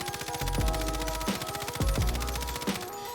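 Rapid automatic gunfire at long range in Call of Duty Warzone, a dense stream of shots with a few heavier impact thumps, loud and continuous over the whole stretch, no talking.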